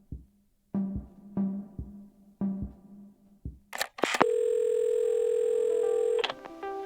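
Several short, evenly spaced phone key beeps, then a steady, loud telephone dial tone holds for about two seconds in the game Assemble with Care, with no voices.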